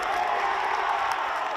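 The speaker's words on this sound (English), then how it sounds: "you can hear the cheer from the sideline here in Perth" Spectators on the sideline in Perth cheer and applaud steadily at a Western Force versus Queensland Reds Super Rugby under-16s match, a broad, fairly loud crowd roar with scattered whoops.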